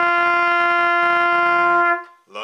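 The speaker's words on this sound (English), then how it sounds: "High note G." A single high G rings out from a trumpet, held firm and loud for roughly two seconds, then stops abruptly, leaving a short, faint trailing sound.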